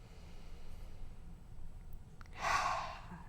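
A single audible exhale, like a deep calming breath or sigh, rises near the end of a quiet stretch, soft and close, with no talking.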